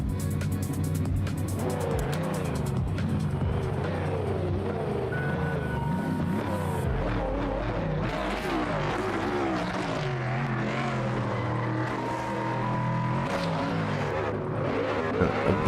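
Drift cars in battle runs at Ferropolis roar continuously with howling engines and tire squeal, pitch sweeping up and down as they slide through corners, loud and sustained throughout.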